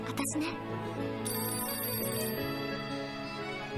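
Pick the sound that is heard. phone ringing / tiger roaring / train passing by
phone ringing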